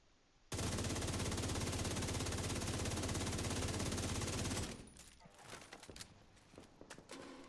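Sustained automatic gunfire aimed at a mini tank in The Division 2, a dense rapid burst lasting about four seconds, loud and close, then trailing off into scattered quieter sounds.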